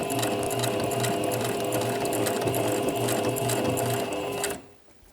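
A sewing machine stitches through thick layers of fabric with a loud, fast, steady rattle that runs close for over four seconds and then cuts off.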